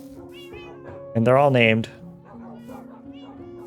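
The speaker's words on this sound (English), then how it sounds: "Oh my gosh, there's so many dogs. Oh my lord, and cats." Cat meows from Minecraft, a brief burst of loud, harmonic meowing in the middle over steady game music, with a person talking before and after.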